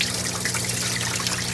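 Water running steadily from opened drain valves into aquaponics fish tanks, a continuous close rushing trickle with a low hum underneath.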